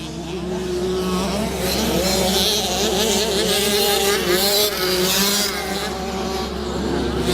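Two Yamaha 65cc motocross bikes race past with a continuous, loud two-stroke engine drone that rises and falls in pitch, joined by a commentator's voice running underneath.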